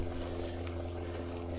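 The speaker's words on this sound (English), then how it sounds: "right now there's a plane coming over" Airplane passing overhead above a Florida island park trail beside the Gulf of Mexico, a steady droning engine hum that stays constant throughout, distant and moderately loud.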